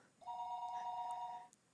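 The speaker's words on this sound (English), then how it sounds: "The dreaded phone calls." One telephone ring in the Higurashi When They Cry video game, a steady electronic trill held for just over a second, fairly clear and alone against a faint background hum.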